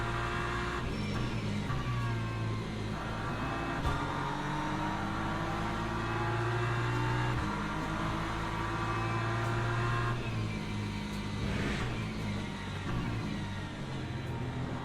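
BMW GT3 race car engine in a multiclass racing video game at Imola, a steady loud drone with gear-shift steps, revving up and dropping through the corners, other cars faintly around it.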